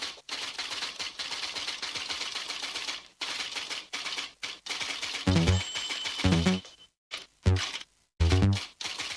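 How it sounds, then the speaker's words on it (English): An old typewriter clacks out a letter in bursts of rapid keystrokes, with pauses and several heavier carriage-return thumps and rattles, close and alone. "I've got to type a quick letter on my old typewriter"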